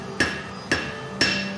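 Three evenly spaced, sharp metallic hammer blows on a metal blade resting on an angled hammer table, each ringing briefly, close and clear with no talk.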